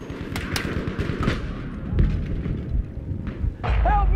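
Rapid automatic machine gun fire in a Battlefield V multiplayer match, a dense continuous rattle of shots with heavier thuds and booms mixed in, fairly close and steady across the whole stretch.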